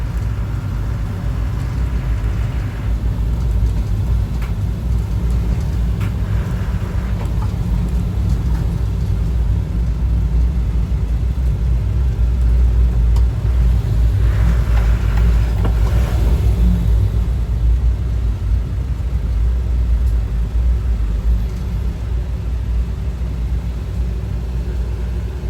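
An armored ambulance drives through Chmielnicki City in Ukraine, heard from inside as a loud, continuous low engine and road rumble with swells of hissing road noise, no talking.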